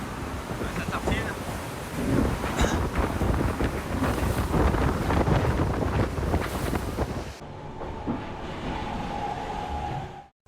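Strong wind of about twenty knots buffets the microphone aboard the large trimaran SR Lazartigue sailing fast at sea, a loud steady roar with rushing water and hull noise that eases toward the end.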